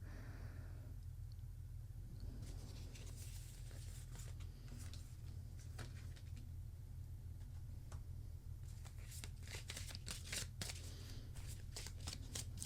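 Tarot cards shuffled by hand in a run of crisp riffles and flutters, growing busier toward the end, over a steady low hum.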